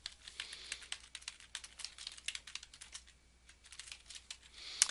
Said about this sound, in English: I could go right up here and I can just type my title in